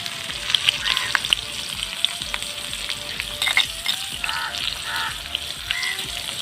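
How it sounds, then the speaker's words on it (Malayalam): Shallots and dried red chillies frying in hot oil for a pappadam chutney, a steady close sizzle with bright crackling spits and occasional stirring scrapes, no voices. "അപ്പൊ നമുക്ക് ചെറിയുള്ളി ഒന്ന് മൂത്ത് കിട്ടണം. അതേപോലെ തന്നെ വറ്റൽ മുളക് നല്ല മൂത്ത് വരുമ്പോഴത്തേക്ക്"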